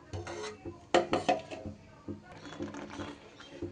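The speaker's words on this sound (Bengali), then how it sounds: "পেস্টটা দেবার পর এবার খুব ভালো করে আমি দুধের সাথে মিশিয়ে নেব" A spoon scrapes and clinks against a metal pan while mango, sugar and chhana paste are stirred into milk, giving irregular close scraping and tapping strokes with no talk.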